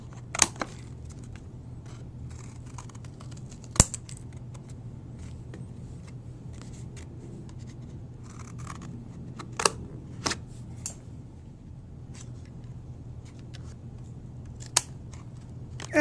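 Scissors snip through cardboard while shaping a spiral goddess figure, giving sharp isolated cuts spaced several seconds apart over a steady low hum, fairly close and otherwise quiet.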